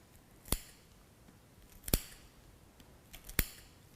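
Scissors snip into a sheep's trachea during a dissection, three crisp, sharp cuts spaced about a second and a half apart in an otherwise quiet room.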